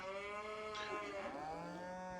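Cows mooing in the farming game Farming Simulator 25, several drawn-out tonal moos overlapping at moderate volume, one call bending and sliding in pitch over a faint background.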